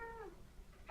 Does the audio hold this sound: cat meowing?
yes